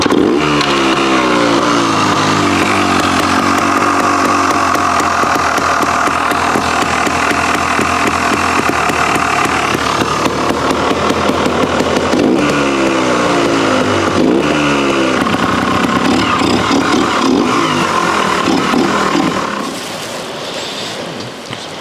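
A 1994 Yamaha TYZ Purple Edition trial motorcycle engine runs loud and close for about twenty seconds, its throttle blipped in a steady series of revs and rasps before the sound drops back near the end.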